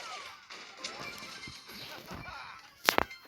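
A character skin in a video game fires shots, heard as two quick, sharp cracks close together near the end, rising above a busy, moderate bed of game sounds.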